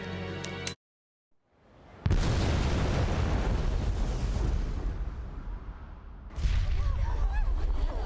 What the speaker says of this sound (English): I will shoot the bomb.